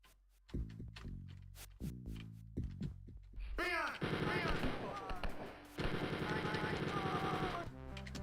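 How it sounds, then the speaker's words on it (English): Chain gun blasting in Wolfenstein 3D, a rapid mechanical rattle in sustained bursts, loud and close, with short staccato shots early giving way to long continuous fire. "Chain gun. Gotta love it."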